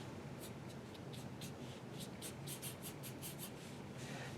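A pencil sweeps short feathered hair strokes across paper, a quick series of soft scratchy flicks in an uneven rhythm, close and quiet with no talking.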